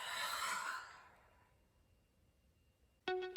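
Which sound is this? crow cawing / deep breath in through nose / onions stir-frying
deep breath in through nose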